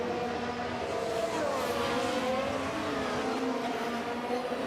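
Formula 1 cars in the F1 Manager 2023 video game race around the track, their engines whining and shifting pitch continuously as several cars jostle for position, a steady loud roar throughout.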